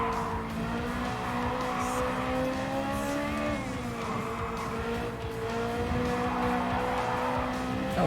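Fast car cornering in the racing video game Gran Turismo 7, its engine droning steadily with a continuous tire squeal through the turn; the pitch dips briefly mid-corner before the engine note steadies again, loud and close throughout.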